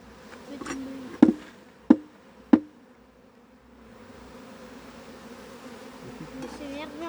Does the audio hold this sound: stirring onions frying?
no